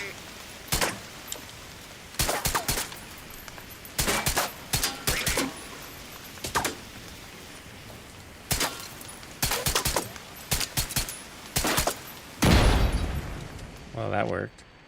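Enemies being shot in the video game The Division 2: sharp bursts of gunfire, single shots and short volleys, fire in irregular clusters, with a heavier blast near the end and voices talking in the background.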